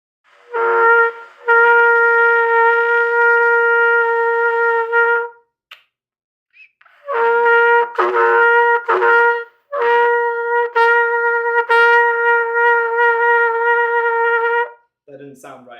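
A trumpet holds a single open C note in a warm-up exercise, repeated as several long sustained tones separated by short breaths and gaps, played close and fairly loud on its own.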